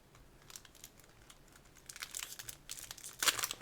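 A 12-card pack of 2021 college draft pick trading cards is torn and crinkled open, with faint scattered crackles that grow louder and busier toward the end.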